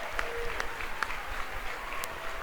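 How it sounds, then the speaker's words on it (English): Steady applause and crowd noise from a high school basketball game crowd at Rancho Mirage High as Chino Hills plays in the fourth quarter, a continuous dense clapping wash with no talk. "Big ovation from the crowd here at Rancho Mirage High"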